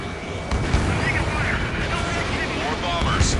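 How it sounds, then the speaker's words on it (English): Missile launch and jet aircraft roar in the combat flight game Ace Combat 7: Skies Unknown, during a battle defending Stonehenge. A dense, steady blast of engine and rocket noise, with deep booming thumps and a voice speaking over it. "Strider 3 launching missile"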